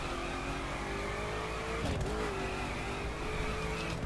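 A Koenigsegg Agera R in the racing game The Crew, its engine holding a steady drone while the tires spin and chirp briefly partway through, loud and continuous with no talking.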